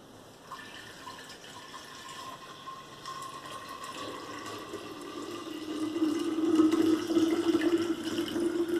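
Water pours from a jar as a story sound effect, a continuous splashing fill that swells gradually louder toward the end, with no voices.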